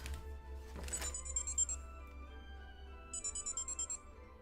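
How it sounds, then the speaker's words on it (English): A phone ringtone goes off in two short bursts of bright, repeating electronic tones, fairly faint against a low background hum. "Why is my phone going off?"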